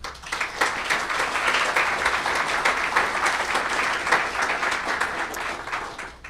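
Sustained applause from an audience at a microbiology society lecture, dense steady clapping filling the room for several seconds without any talk.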